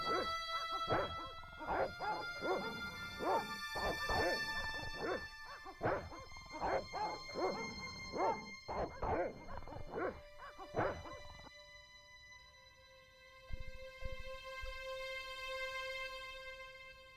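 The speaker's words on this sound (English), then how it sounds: "All right, you dogs, I'm coming." Dogs bark in a rapid, repeated burst for about eleven seconds in the game Broken Sword: Shadow of the Templars Reforged, backed by sustained game music that carries on alone after the barking stops.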